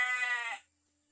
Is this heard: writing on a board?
no